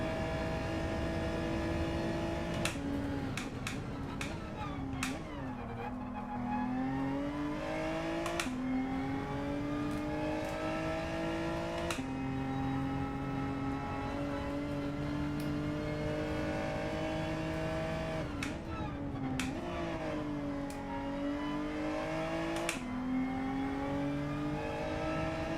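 Race car engine in Gran Turismo 7, loud and sustained, its pitch climbing steadily through the gears with sharp breaks at each shift, easing off briefly, then winding up again.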